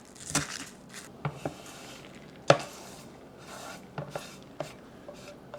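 Fresh garden red shallots are chopped by knife on a board, a handful of sharp separate chops spaced irregularly over quiet background, one noticeably louder hit in the middle, with no talking.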